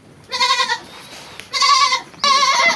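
Lyallpuri goats bleat loudly and close by in three separate wavering calls, with short quiet gaps between them.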